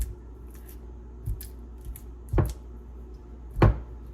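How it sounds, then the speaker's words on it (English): A small red spatula breaks up chocolate chip cookie dough in a close ASMR-style kitchen recording, giving soft taps followed by two sharp, loud scraping crunches about a second apart. "I'm going to take my little red spatula here and just kind of break them up just a little bit."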